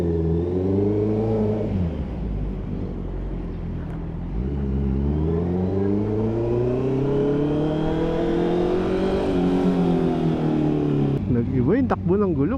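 A Honda CB650R motorcycle rides on fresh Pirelli Diablo Rosso IV tires, its engine droning and rising through the gears in long smooth revving sweeps, with a sharper burst of revs near the end.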